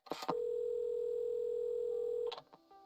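A steady telephone dial tone in the video game Assemble With Care holds for about two seconds between brief clicks of lifting and setting down the handset, clear and alone.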